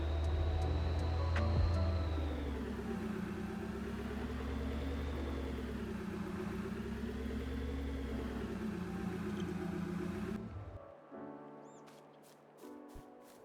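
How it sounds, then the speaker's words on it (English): A tractor engine in the farming video game Farming Simulator 22 drones steadily with a gently wavering pitch, then cuts out abruptly near the end, leaving faint clicks and quiet. "We're going to have to use a tractor."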